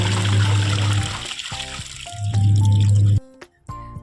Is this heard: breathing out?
no